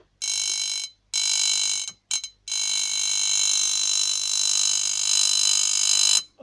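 A cross-field (transverse field) electric machine gives off a loud, steady high-pitched buzzing vibration in a few sustained bursts, broken by short silences before one long continuous stretch.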